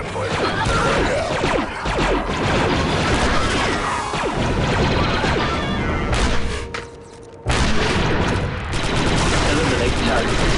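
Rapid blaster gunfire and impacts from a Star Wars Republic Commando firefight crackle in dense bursts, dropping briefly to a near-silent gap before the shooting resumes loudly.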